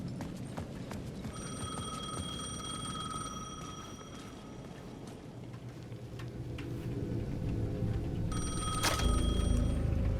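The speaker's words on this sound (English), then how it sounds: "The payphone at the edge of the plaza was ringing again." A payphone at the edge of a plaza in the video game Alan Wake 2 rings in two clear electronic bursts separated by a pause. A dark ambient rumble runs underneath and swells toward the end, with no talk.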